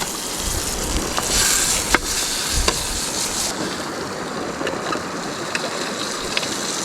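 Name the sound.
trout cooking outdoors over a fire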